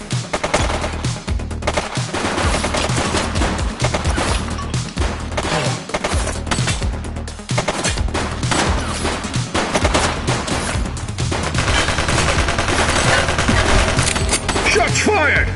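Sustained automatic gunfire from The Precinct video game, dense overlapping bursts and volleys rattling continuously and loudly for the whole stretch, with faint voices mixed in beneath the shooting.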